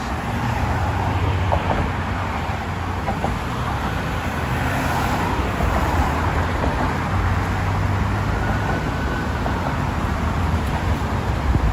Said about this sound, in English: Check out the traffic over the Brooklyn Bridge.